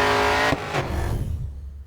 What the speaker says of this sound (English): So if I push space, the car is drifting